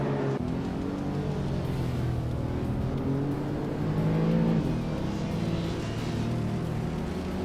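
Toyota Celica SS2 race car engine in a racing video game, a loud continuous buzzing roar with rising and falling revs and shifting pitch, close and dominant without any talking.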